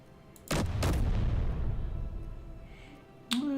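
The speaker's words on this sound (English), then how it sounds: "Why are you still shooting?" Assault turret firing in the Space Engineers game: a loud, booming shot followed by a second close behind it, each trailing off into a rumbling decay, then a sharp mechanical blip at the end.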